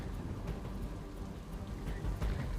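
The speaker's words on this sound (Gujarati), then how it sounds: "અમદાવાદ શહેરના પૂર્વ વિસ્તારમાં ધોધમાર વરસાદ ખાબક્યો છે" Heavy downpour over eastern Ahmedabad during a monsoon storm. Dense, steady rain hiss and drumming fill the whole clip, with deep low rumbling underneath and no voices.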